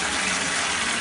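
Water gushes steadily from a broken bathtub tap that won't shut off, a dense, continuous rushing that stays loud and close with no voices over it.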